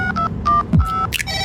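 A telephone keypad dials a quick run of touch-tone beeps, several short loud tones in a row with brief gaps between them.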